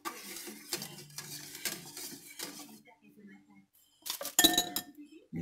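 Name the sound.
stirring a sauce in a pot on the stove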